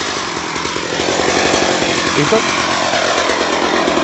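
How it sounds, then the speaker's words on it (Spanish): A chainsaw runs during tree pruning, cutting through thick, large branches; the engine drones steadily and loudly throughout, with a brief spoken word over it. "La motosierra cumple, como venía mencionando, la función de eliminación de ramas grandes."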